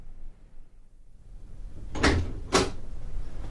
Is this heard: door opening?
yes